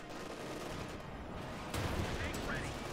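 A Sherman tank gun fires in Company of Heroes 2, a single sharp boom partway through over a low battlefield rumble, fairly loud and close.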